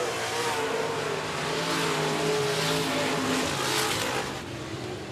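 Race cars circle a speedway in a steady, loud engine drone that swells and fades slightly as the pack runs laps, with no voices over it.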